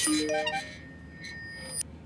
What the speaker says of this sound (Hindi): बाबू ने ग्रुप में मैसेज भेजा है